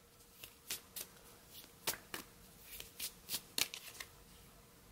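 Botanical oracle cards being shuffled for a reading, a close run of crisp riffling bursts, about a dozen quick flutters in an irregular rhythm against a quiet room.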